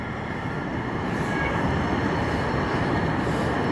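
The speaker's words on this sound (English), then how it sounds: "See, this is a train." A train rolls steadily past Columbia City Station with a broad, continuous rumble and rush that holds at a constant loudness throughout, with no voices.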